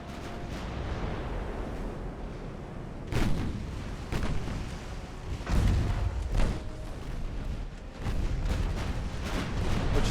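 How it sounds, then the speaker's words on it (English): Heavy naval guns boom repeatedly in a late-1800s warship battle in Ultimate Admiral: Dreadnoughts, several deep thuds spaced irregularly over a constant low rumble of sea and engine noise, without any talking. "she's coming back around to shoot at us"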